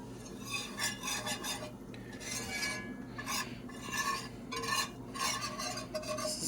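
A flour and butter roux is stirred in a pan with a utensil, producing soft repeated scraping and rubbing strokes over a faint low sizzle.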